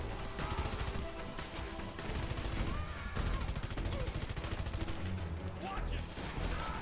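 Dense gunfire aimed at the player in Red Faction Guerrilla on insane difficulty, a steady fusillade of rapid shots and crashes that runs the whole time under game music and effects.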